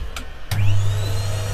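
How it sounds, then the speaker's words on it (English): A vacuum cleaner hoovering wood shavings out of a freshly turned side-grain pen pot starts abruptly after two short knocks, then runs as a steady, loud motor drone close by with no talk. "I'm going to hoover it out."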